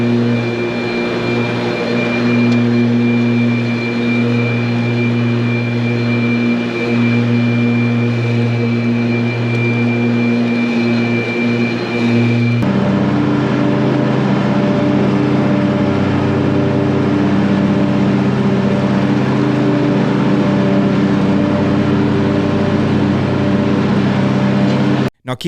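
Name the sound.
Ryobi 54-inch battery-powered electric zero turn mower running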